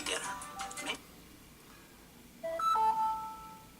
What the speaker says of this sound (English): I apologize for the constant break-in of text messages through that.